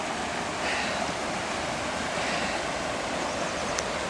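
Creek water flows in a continuous, even rushing wash, close and steady, with no break in the sound.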